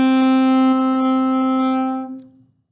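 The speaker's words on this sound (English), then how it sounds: "The A is the next note." A saxophone holds a single sustained note A, steady and full for about two seconds before tapering off, played alone and close.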